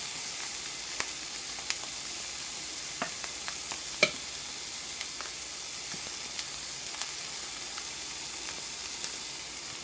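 Steak frying in a hot pan, a steady close sizzle with scattered sharp pops and crackles throughout, no voices.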